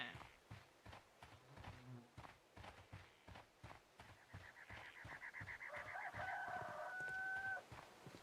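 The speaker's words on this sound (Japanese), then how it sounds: "鶏の鳴き声がするぞ。" A rooster crows in the Sherlock Holmes: Crimes and Punishments video game, a long, strained cock-a-doodle-doo heard a little way off over a steady patter of footsteps.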